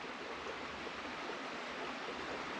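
A creek flows in a burned-over landscape after a wildfire, a steady broadband rush of water heard continuously and fairly close, with no voices over it.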